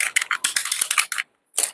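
A cassette tape reel is wound by hand, giving a quick run of dry, ticking plastic clicks that stops briefly before one last short burst. The sound is close and heard alone.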